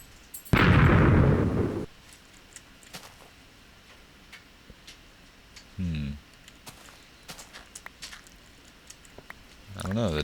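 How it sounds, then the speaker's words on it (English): TNT detonating in a block-building video game: one loud, broad explosive burst lasting over a second, followed later by a shorter low rumbling blast, separated by quiet stretches. "I just set this TNT off"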